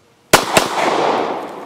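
Two sharp pistol shots from an H&K P7 PSP fired in quick succession, loud and close, the second coming about a quarter second after the first, followed by a long fading outdoor echo.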